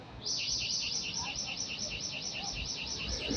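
Birds chirp in a steady, repeating high warble that continues without pause, close and fairly clear over a low background murmur.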